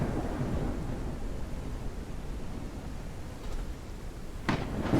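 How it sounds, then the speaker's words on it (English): A storm rages in the survival game Forever Skies, a dense, steady rumble of thunder and rain noise with a couple of sharper cracks near the end, loud and without talking. "the storm lightning is going to hit us"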